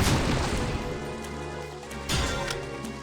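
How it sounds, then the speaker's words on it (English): A zombie smashing out of wooden crates in the arcade game Resident Evil Survivor 2 Code: Veronica, a loud booming crash at the start, fading into a low game drone, then a second sharp impact near the end. "have the zombie bust out of the crates over here"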